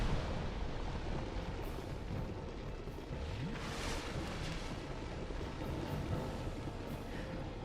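A fire orb spell detonates in the video game Dark Souls 2, heard as a loud, sustained, roaring rumble of explosive fire that fills the whole stretch without letting up.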